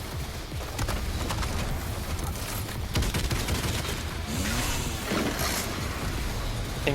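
Rapid full-auto shotgun blasts in the shooter game Doom Eternal, a dense, loud, continuous barrage of overlapping shots with chaotic combat noise and no speech.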